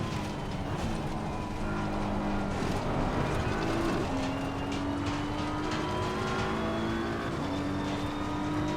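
Race car engines in Assetto Corsa Competizione during a multiclass endurance race on the Nordschleife, a continuous loud roar with gear shifts and revs climbing in steps, other cars audible alongside.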